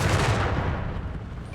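A walking Stuka rocket artillery barrage in Company of Heroes 3 keeps up a dense, continuous rumble of explosions and gunfire. It stays loud across the whole stretch with no pauses.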